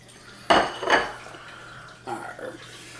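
A mixing bowl is picked up and set down in a kitchen, two clattering knocks followed by a softer pair of clinks, close and distinct with no talking.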